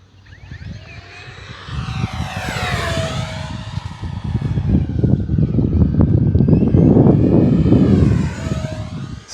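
E-flite F4U-4 Corsair V2 1.2 m RC warbird making fast passes, its electric motor whining with rising and falling Doppler sweeps, loud and steady over outdoor wind rumble.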